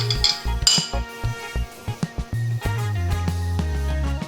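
Chopped ginger and green chilies tipped into a metal cooking pot, sounding as a quick run of bright clinks and knocks followed by a steady sustained tone, close and loud with no talking.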